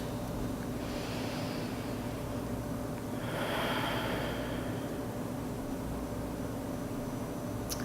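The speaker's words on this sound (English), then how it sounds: "So taking a few deep breaths, really filling up your lungs" Slow, deep breaths during a full-body yoga flow: a soft inhale swell near the start and a stronger, longer breath a few seconds later, over a steady room hum with no talking.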